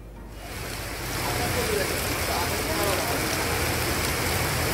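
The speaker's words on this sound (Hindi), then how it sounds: "सुबह से बहुत बारिश और बहुत हवा तूफान बहुत चल रहा है" Heavy rain and gusting wind from Cyclone Tauktae in Mumbai make a steady, loud roaring hiss that swells after the first second and stays dense and unbroken throughout.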